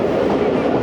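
The 40 Down Jaffar Express of Pakistan Railways rolls into Okara railway station with a steady, dense rumble and rattle of carriages heard from on board, close and loud.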